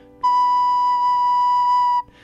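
One held note B on a recorder, fingered with hole one and the thumb hole, a clear steady pure tone lasting nearly two seconds, played alone and close, ending with a faint breathy release.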